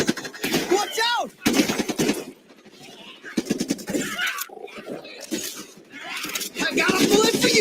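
A video game fires gunshots in rapid bursts and sharp repeated cracks of automatic fire, loud and close, alternating with quieter gaps and overlapped by people talking excitedly.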